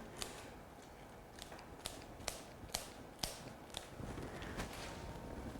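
Florist's scissors snip flower stems short for a flower Christmas pudding arrangement, a series of about ten sharp, close clicks at uneven intervals over a low room hiss, with no talking.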